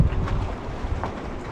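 Steady wind buffets a sailboat out at sea in nasty, worsening weather, a continuous low roar of gusts across the microphone with the rush of water beneath, no talking.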